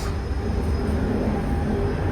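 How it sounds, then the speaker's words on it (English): A subway train rumbles past with a steady low roar and faint high squeal from the rails, continuous and fairly loud throughout, heard before an evening function. "That's the subway."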